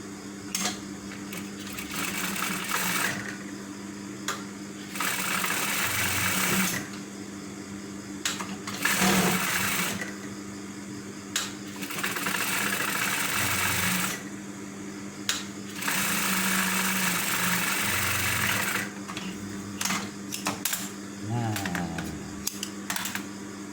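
Sewing machine stitching the lining of a jacket hood, a steady rapid mechanical whir in long runs separated by short pauses, with a person talking now and then.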